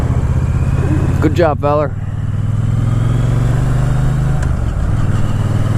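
A motorcycle, a rival to the Harley-Davidson Sportster, rumbles steadily at low speed while weaving around cones, its engine droning continuously with a brief rev change; someone speaks briefly over it.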